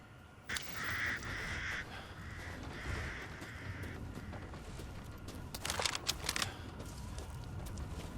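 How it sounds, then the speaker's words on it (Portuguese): Crows caw in the game Resident Evil Village, several drawn-out calls over a dense, constant outdoor ambience, with a few sharp clicks and taps partway through. "Ó, os corvos."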